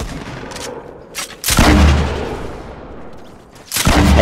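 Booming gunshots from a gun in Fortnite, with one heavy blast echoing and decaying and a second shot near the end, loud and close.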